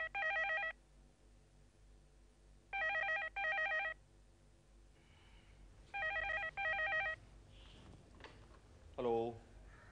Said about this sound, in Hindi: सावी, सावी बुआ जी का फोन